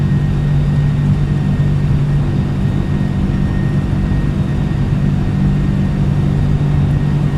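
MD-11 jet engines hold takeoff power during a flight simulator departure roll, a loud, steady low roar with a constant tonal hum running unbroken throughout, with no voices heard.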